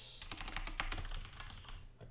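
Quick, close clicks of keys being struck on a computer keyboard, an uneven burst of typing that ends with a heavier thump.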